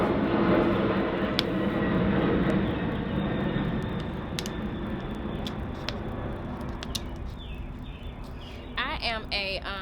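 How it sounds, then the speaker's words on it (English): A fixed-wing airplane passes overhead near an airport, a loud broadband roar that fades over several seconds, with a voice talking over it. "let this plane go by"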